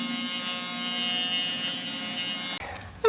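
Electric clippers buzz steadily while shaving down a matted dog during grooming, a continuous close whine that cuts off near the end, followed by brief handling noises.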